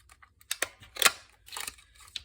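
Scissors snip through fabric or paper close by during a sewing session, a handful of quick, crisp cuts in an irregular rhythm with short pauses between.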